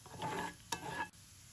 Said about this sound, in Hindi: यहाँ पर मैं बेल पेपर्स को थोड़े से लहसुन में फ्राई कर रही हूँ।